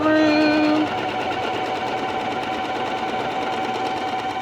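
A sewing machine runs a back stitch on a pleated skirt, first whirring at a higher pitch and then settling into a steady, even mechanical hum that continues to the end.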